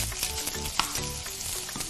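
Bacon sizzles and crackles in a pan, a close, dense frying hiss with small pops and a faint scrape of stirring throughout.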